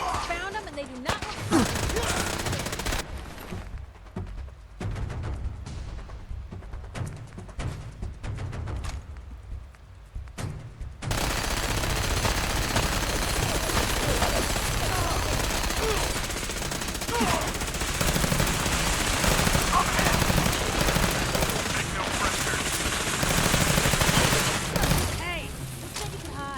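Rapid automatic gunfire and scattered shots in the video game Fallout 4, dense and loud bursts continuing throughout, mixed with game sounds and occasional voices.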